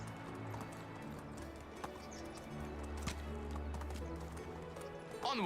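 Hooves clip-clop steadily as a donkey walks through the game Medieval Dynasty, moderately close over a continuous rumbling ambient bed with faint birdsong, no one speaking.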